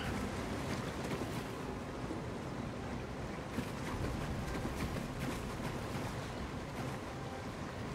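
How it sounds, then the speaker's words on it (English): Steady broadband rushing of a waterfall in The Elder Scrolls Online, constant and fairly loud with no pauses, alone without talk. "that's really pretty waterfall"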